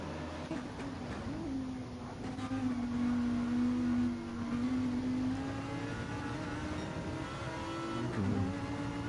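Race car engines in a sim race that includes an Audi, a steady droning whine that holds for several seconds, shifts pitch slightly as the car accelerates, and dips near the end, with other engines faintly underneath.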